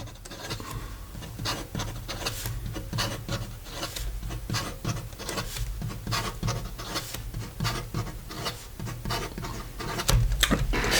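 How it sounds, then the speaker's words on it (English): Fast writing with an ASC Bologna Extra Arco fountain pen, a steady close scratchy rasp of nib on paper with quick rhythmic strokes, no talking. "And then in regard to some fast writing"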